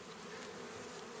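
Bees from a small nuc hive buzz close by in a steady, dense drone on a warm day, continuous throughout.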